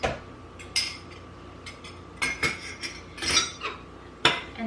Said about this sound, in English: So I have 2 eggs here. We're just gonna beat these and add those in.